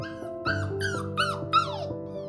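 A dog lets out a short series of high, plaintive whines, about four rising and falling yelps in quick succession. The sound is close and alone, with no voices.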